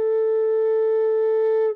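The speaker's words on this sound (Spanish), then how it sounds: "En una flauta suena así." A recorder-type flute holds a single steady A note at 440 Hz, clear and loud, sustained evenly for nearly two seconds before stopping abruptly, with no other sounds.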